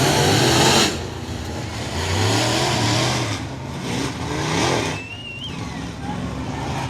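Dirt track race trucks roar away at a race start, a loud, dense wall of engines revving and accelerating together with surging rises and dips, close by and continuous throughout.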